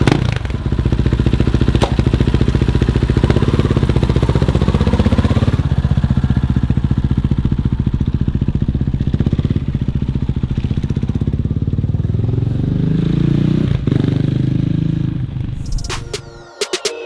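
A motorcycle rides down the road, its engine droning steadily and close for most of the ride, with gear changes audible and the sound dropping away at the end.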